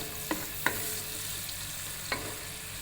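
Onions browning in a pan for shahi kadhi pakora, with a steady close sizzle and three or four sharp scrapes of a spoon stirring them, no voices.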